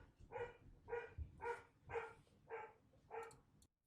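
A dog barks upstairs in a run of six evenly spaced, fairly loud barks heard through a door, the last one followed by a brief clatter.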